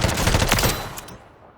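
Rapid automatic gunfire from an M4 rifle in a first-person shooter game, a loud close burst of quick shots lasting under a second, then a short echoing tail fading out.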